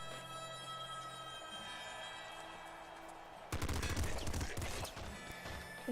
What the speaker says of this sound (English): I like this pop gun.